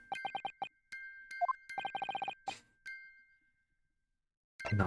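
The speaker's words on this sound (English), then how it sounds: "Just because this is a music box, it doesn't necessarily mean the sounds we're hearing are music." Music box chiming in The Great Ace Attorney video game: bright, plinking metallic notes in quick repeated runs with a brief pause between phrases, then silence before a burst of low noise at the end.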